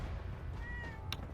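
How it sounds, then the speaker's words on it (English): A cat in the video game Fallout 4 gives a single short, thin meow, fairly faint over a low background hum of the game's ambience. "Oh, you have a kitty!"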